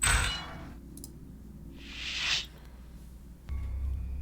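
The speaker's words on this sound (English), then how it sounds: "Unlocking outer door." A spaceship outer door in a video game unlocks with a metallic clang, then a rising pneumatic whoosh, then a deeper mechanical thud and steady hum.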